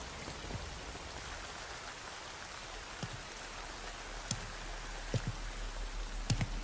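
Rain falling in a Metal Gear Solid Delta video game cutscene, a steady soft hiss of rainfall with a few scattered louder drops and drips, no talking.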